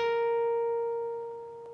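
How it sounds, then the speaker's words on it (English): A single guitar note slid up two frets from the 14th to the 16th fret on the G string, sustaining cleanly and fading softly over under two seconds. "you're going to slide up quickly two frets to the 16th fret of your G string."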